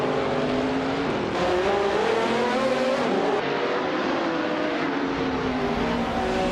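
Ascari KZ1R race cars running on track, a continuous layered engine drone with shifting pitches as several cars rev together, steady and loud throughout.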